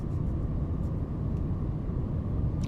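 An airliner's engines during a go-around replay in Microsoft Flight Simulator, a steady loud rumbling roar that holds evenly throughout, with a few faint clicks.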